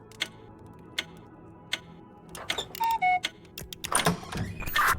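Clock in the puzzle game We Were Here Together ticking at a slow, even pace, the ticks clear at first and then partly covered by chimes, clicks and other busy game sounds.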